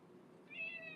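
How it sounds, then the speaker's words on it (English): A pet cat that dislikes being picked up gives a single short meow, faint and close, heard indoors during a storm over a low background rumble. "Here, got my cat."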